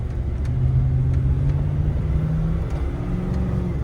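A 1998 Ford F150 step-side pickup, 4.6 or 5.4 liter V8, pulls away with a steady low engine rumble that rises and drops through gear shifts, close and continuous with no talking.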